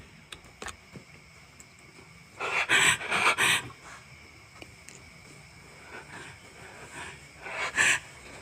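Heavy panting breaths come in a cluster of loud, close gasps, then a quieter stretch of faint breathing and another short burst near the end, inside an abandoned factory warehouse. There is no talking.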